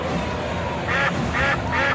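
Ducks on a pond give three loud nasal quacks in a quick, even run over a dense background murmur.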